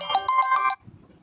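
A phone ringtone for an incoming call plays a bright, repeating melodic pattern of several quick tones, fairly loud and close, then cuts off abruptly into quiet room noise.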